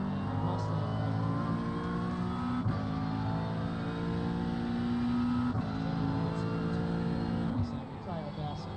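Several GT race car engines roar and rev continuously at Spa-Francorchamps in the iRacing sim, a loud steady drone with gear shifts and shifting pitch, and a brief dip near the end.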